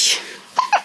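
One sneeze, loud and close, bursts out at the start, followed by two quick, small voiced sounds like a brief giggle or exclamation.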